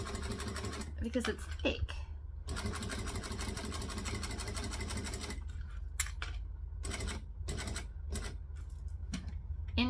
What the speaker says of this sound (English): I'm going to sew slowly